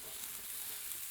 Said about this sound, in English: And we're just going to let this saute.